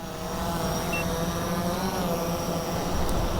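A drone comes in to land over the water, its steady propeller hum droning continuously and evenly, with no voices.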